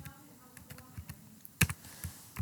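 Keyboard shortcut typed on a computer keyboard, a handful of soft scattered key clicks with one sharper double press near the end, close and quiet, no talking.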